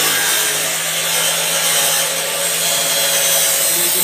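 Factory cutting machine slicing uPVC door and window profiles, a steady loud broadband whir with a constant grinding rasp running throughout, close by and without talk.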